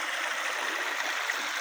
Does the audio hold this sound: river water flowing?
yes